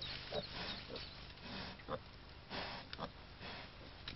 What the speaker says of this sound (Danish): Når grise fødes, kommer de hurtigt på benene og maser for at få navlestrengen brudt over.